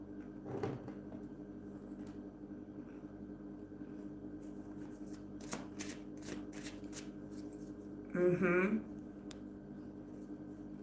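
Tarot cards being shuffled by hand, soft papery riffles and taps scattered through a quiet room, with a brief louder rustle near the end.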